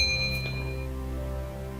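A single bright bell ding strikes at the start and rings out with a long, slowly fading sustain, alone and close.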